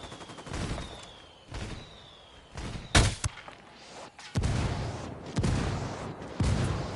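Gunfire in Ghost Recon Wildlands, a tactical shooter: several separate bursts and sharp shots at moderate loudness, with pauses and softer battle noise between them.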